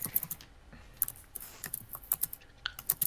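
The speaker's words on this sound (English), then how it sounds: "Typing. He's typing." Rapid, irregular clicks and taps of fingers typing on a computer keyboard, close and fairly quiet, in uneven bursts with brief pauses between keystrokes.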